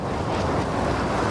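Wind-driven waves surge in a stormy scene from The Invincible, a thick, loud rushing roar with no pauses over a brief stretch.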